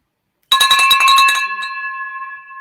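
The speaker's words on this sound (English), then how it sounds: "We're gonna ring the bell a couple times on this" A bright handbell rings in a quick shaking burst for about a second, loud and close, then its clear metallic tone hangs and slowly fades, marking a closed wholesale real estate deal.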